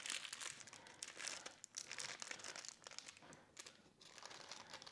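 Parchment paper crinkles and crunches as it is folded and rolled shut around sole en papillote, close and fairly quiet, in irregular bursts of crumpling.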